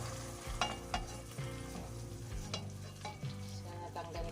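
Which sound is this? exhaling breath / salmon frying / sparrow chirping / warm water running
salmon frying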